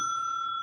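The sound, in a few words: electromechanical pinball machine bell rung by electromagnet coil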